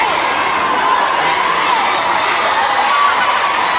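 A large crowd of overseas Filipino workers in Singapore shouts and cheers continuously, a dense wash of raised voices held at steady loudness with no clear individual words standing out.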